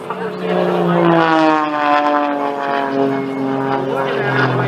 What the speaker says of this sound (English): He powers the engine